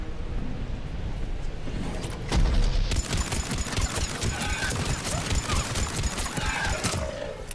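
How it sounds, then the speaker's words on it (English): Shotgun blasts and other weapon fire crack out in Mass Effect 3, with a heavy boom partway through followed by a dense, ongoing barrage of sharp shots. "Oh, it's a shotgun."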